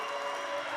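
A packed gym cheers and applauds at a SoDak 16 girls basketball game between Pierre and Harrisburg after a made three-pointer, a loud, unbroken roar of many voices and clapping.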